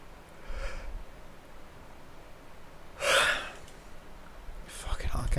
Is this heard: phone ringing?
no